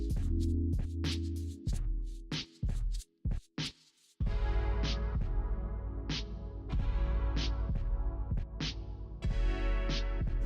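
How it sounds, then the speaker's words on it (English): Blow dryer blasting air over wet acrylic paint during a Dutch pour, cutting on and off in short bursts at first, then running continuously with a loud close whoosh broken by periodic rhythmic swells. "we're going to take the blow dryer and blow backwards and then we're going to blow forward"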